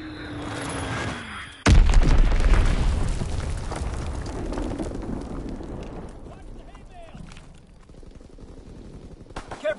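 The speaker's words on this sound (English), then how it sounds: "Enemy bomb incoming." Bomb explosions in the Call of Duty WW2 video game, a sudden heavy boom after a short lead-in, then a long rumbling roll of blasts and gunfire that gradually fades, with game voice announcements mixed in.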